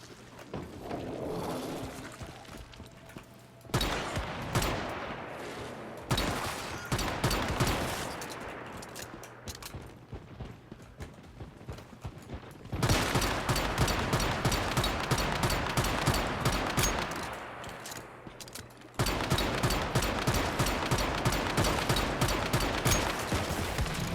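Sustained automatic gunfire in the video game Once Human, loud rapid bursts of shots in long stretches with short pauses between, tight repeating reports.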